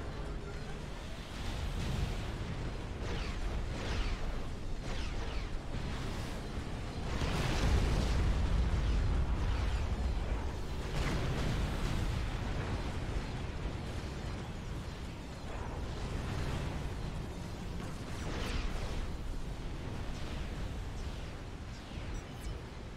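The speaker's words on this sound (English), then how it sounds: "So much mobile artillery fire." Mobile artillery fire and explosions in the strategy game Supreme Commander form a continuous rumbling barrage of deep booms and crackling blasts, loud and dense throughout, with a caster's voice talking over it.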